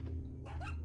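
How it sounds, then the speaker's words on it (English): A dog barks and yelps in Resident Evil 4, a couple of short agitated cries over a steady low hum of game ambience, fairly faint and close. "Scared me, dog."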